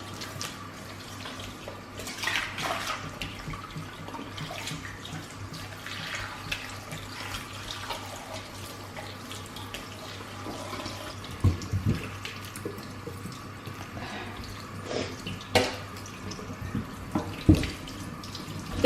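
Tap water runs steadily while the inside of a lamb is washed in a kitchen, a soft continuous splashing with scattered sharper drips and knocks throughout.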